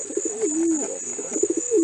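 Pet pigeon named Spot cooing close by, two soft throaty rolling coos separated by a short pause, with faint chirpy background noise and no talking.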